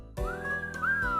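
A single whistle in the visual novel game Asagao Academy: a clear tone that slides upward, then holds steady for about a second with a brief upward flick near the end, over a continuous background music bed.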